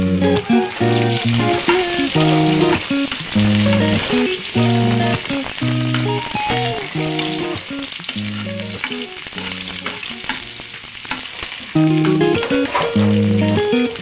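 Chopped onion hits a hot pan for pork menudo, giving a steady, close sizzle of frying that runs throughout beneath a layer of background music.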